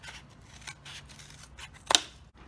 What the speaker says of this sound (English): I've cut up all my cardboard here